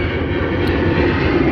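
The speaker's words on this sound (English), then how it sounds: "And we got airplanes coming by." A fixed-wing jet airplane passes overhead, its engine a steady, loud broadband roar that fills the whole stretch without letup.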